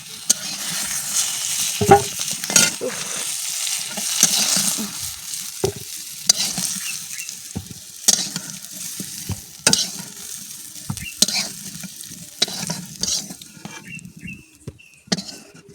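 Mango pieces fry in hot oil over a wood fire, a steady close sizzle broken by repeated sharp clacks and scrapes of a spatula against the pan.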